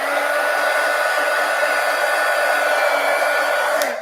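A hair dryer blowing steadily on collage pages in mini composition books, a loud, close, even whir and hum that holds for several seconds before cutting off at the end.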